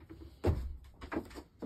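A Japanese-style sliding door inside a 2024 Benimar Amphitryon 967 caravan glides shut with a close, soft thud, followed by a lighter knock and a brief rolling slide.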